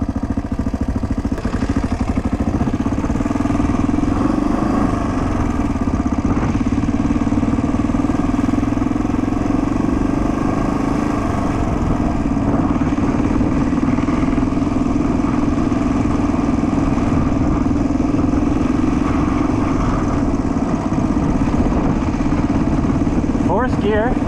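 A 1979 Honda XR500 motorcycle, rebuilt after engine damage, roars steadily while being ridden and shifted through gears, a loud continuous engine drone with slight pitch changes and a rider talking over it.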